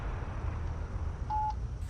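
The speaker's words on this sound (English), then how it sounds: "I'm going to call this phone number." A single touch-tone telephone dialing beep, steady and clear, sounds once over a low background rumble as someone calls a phone number.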